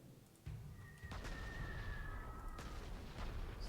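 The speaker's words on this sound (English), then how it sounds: "And then we can do some level bombing here." Level bombing attack in the video game Panzer Corps 2, with a sudden deep boom followed by a rumbling run of explosions and a thin whistling tone. Low, sustained blasts continue to the end.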